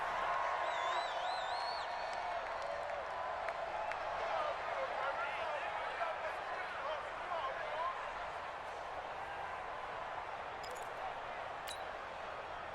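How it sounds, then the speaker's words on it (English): Dense stadium crowd roar at a Madden NFL 20 game between the Houston Texans and Jacksonville Jaguars, a steady loud wash of cheering and whoops throughout with commentary-style talk layered over it. "This crowd is ready as their guys get set to match up"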